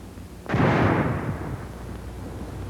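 A frangible hand grenade with FS smoke filler bursting: a single sharp, heavy blast followed by a long, hissing, rumbling decay, heard alone without voices.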